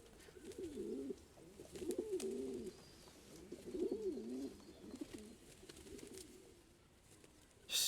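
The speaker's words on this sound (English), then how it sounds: "one of the best video game pigeons I encountered in a while" Pigeons in the video game Promesa coo in low, rolling, wavering calls that repeat several times, close and clear with a quiet background and no talk.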